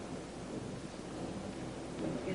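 Storm thunder mixed with steady rain, a low continuous rumble that swells near the end. Broadband and fairly loud, with no voices over it.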